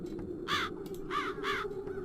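Crows caw three times in The Dark Eye: Chains of Satinav, harsh and moderately loud over a steady low game ambience, with a faint fourth call near the end.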